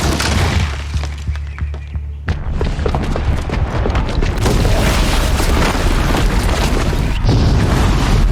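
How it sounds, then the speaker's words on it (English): Booby-trapped bomb detonating in Horizon Zero Dawn, a loud deep boom followed by a sustained roar of crashing, shattering debris and rumbling destruction. "the booby trap on the bomb downstairs is gonna get set off"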